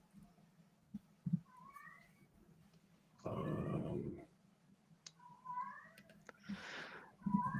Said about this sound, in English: I have a cat that's in the heat.